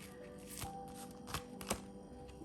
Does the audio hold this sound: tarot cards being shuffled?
yes